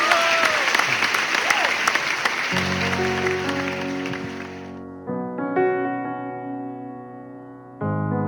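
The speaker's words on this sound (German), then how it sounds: "So ein Applaus" Audience applause at a Christmas concert by a Cologne band, loud and dense for the first few seconds, then giving way to sustained band music with drums.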